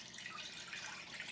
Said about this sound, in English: I'm going to go ahead and pour this into this pie dish